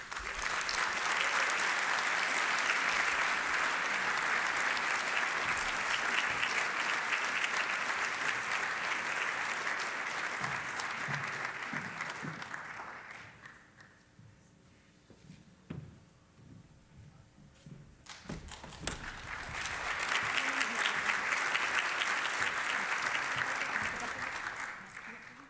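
An audience applauding to welcome a speaker to the stage at an advocacy award event, with loud, sustained clapping that dips into a quieter stretch and then swells again.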